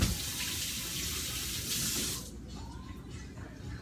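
Firm whitefish rinsed under a running kitchen tap, a steady rushing stream that drops to a lighter trickle partway through, close with no talking.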